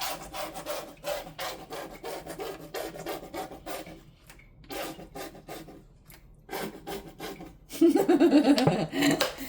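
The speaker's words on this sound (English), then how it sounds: "Here goes the fabulous noise that everybody loves when they empty a bottle" An emptying bottle gives off a long run of rhythmic, raspy glugging bursts that pause briefly midway, and laughter breaks out near the end.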